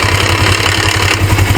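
Rare 1980s Suzuki GS 450A automatic motorcycle idling close by, a steady low engine burble with an even pulsing rhythm, loud and continuous with no voices.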